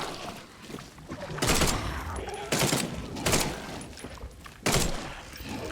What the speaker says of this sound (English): Maybe we switch to the Tommy gun